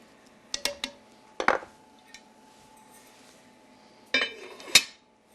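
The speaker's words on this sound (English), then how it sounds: "We put the top on this." Metal clanks and clinks of a lid being set onto a cooking pot in a home kitchen, a few sharp knocks early, a pause, then another cluster of scraping rattles near the end.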